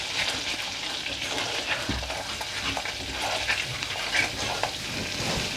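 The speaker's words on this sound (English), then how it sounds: "once the butter's melted, we're going to throw in the ajwain" Carom seeds (ajwain) sizzling in melted butter in a pan, a continuous crackling fry with occasional stirring scrapes, close and fairly loud, with no talking.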